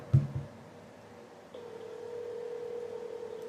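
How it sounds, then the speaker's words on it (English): A telephone call is placed to AT&T: a couple of short dial-tone bursts at the start, then a steady ringback-style tone humming on quietly after a pause. "This is AT&T that I'm calling right now"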